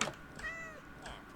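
A Minecraft cat near a mangrove swamp meows twice, soft and fairly close, the second call shorter, with faint clicks and quiet background.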